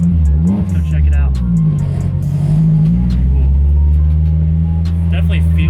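A Spoon Honda S2000 reversing at full steering lock, its engine idling with a low steady drone and small shifts in revs, loud and close, with faint clicks and scrapes over it.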